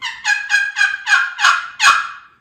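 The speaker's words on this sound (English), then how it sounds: "just a phenomenal, phenomenal sounding call" Handmade turkey call of century-old black walnut producing a series of seven loud, close yelps in a steady rhythm, each note a little longer and stronger than the last, with no talking.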